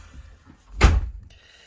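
Bonnet catch on a Malibu I500QB motorhome releasing with a single short, solid clunk, close by and alone in a quiet cab.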